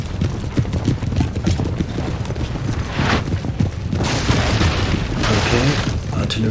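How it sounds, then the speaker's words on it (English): Artillery fire in an 18th-century French colonial strategy game, with thudding booms and crackling bursts scattered over a busy battle din of hoof-like clatter; heavier blasts swell near the end. "Artillery fire coming in, but aiming a bit too high at the moment"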